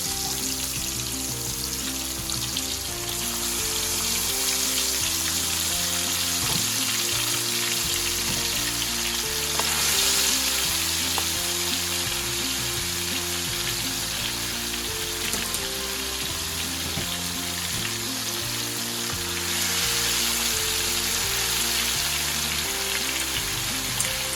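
Pork chop frying in hot oil for a crispy finish, giving a loud, steady sizzle and crackle that runs continuously without a break and with no talking.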